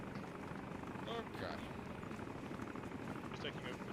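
A helicopter in a video game thrums steadily with a constant, muffled rotor drone in the distance, the noise unbroken throughout with faint voices over it.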